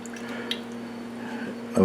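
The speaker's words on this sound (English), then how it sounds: "Now over a 15-minute period, I add 130 degree water" 130-degree water is poured steadily into cheese curd and whey while making chilli pepper Gouda, giving a continuous close trickle and splash that ends in a brief stronger slosh.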